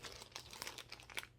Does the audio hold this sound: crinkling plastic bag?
yes